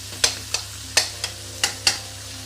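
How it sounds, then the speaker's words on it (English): A spoon scrapes and stirs chicken malai in a sizzling pan, six sharp strokes at a steady pace over a low, even frying hiss, close and clear. "If you could just gradually start slowly turning it, so the side of the pan is not burning."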